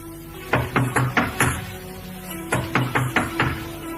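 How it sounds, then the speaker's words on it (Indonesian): Two bursts of knocking on a wooden door in a radio drama, first five raps, a pause, then five more, fairly close and clear over a faint steady hum, no talk. "Sebaiknya kita ketuk dulu."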